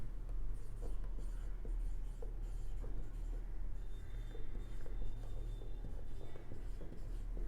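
A pen writes the letter C during a 10th-standard maths probability lesson, producing steady, close scratchy strokes on paper that run continuously over a low room hum.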